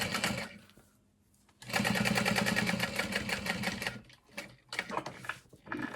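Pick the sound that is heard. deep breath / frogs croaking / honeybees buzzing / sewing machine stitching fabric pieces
sewing machine stitching fabric pieces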